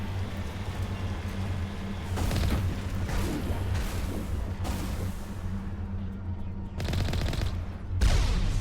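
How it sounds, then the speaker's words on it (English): Rapid gunfire bursts and heavy booms as a booby-trapped object explodes during a firefight in Mass Effect, with loud repeated volleys, a brief lull, then further sharp blasts near the end. "Oh wow, that was booby-trapped. Never seen that blow up before."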